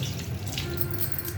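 Tap water running steadily into a sink while a kadhai is washed, a soft continuous splashing rush with faint clinks, close and alone.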